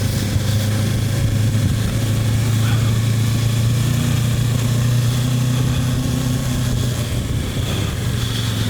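Kawasaki Versys 650 motorcycle engine running steadily at a low, even idle, a continuous droning hum held close by for the whole stretch with no talk over it.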